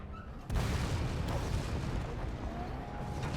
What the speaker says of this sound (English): And it exploded.